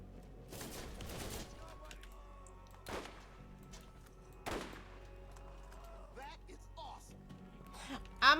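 Gunfire in Borderlands GOTY Edition: a few scattered bursts of shots, moderately loud against a quiet background, with a person talking in between and some game sounds near the end.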